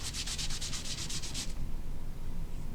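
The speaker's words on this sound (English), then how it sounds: "All I'm doing is just rubbing it with my my rag." A rag rubs paint onto a Warhammer helm, a quick run of about ten rhythmic scratchy swipes, close and distinct, then fading into quiet room noise; no speech.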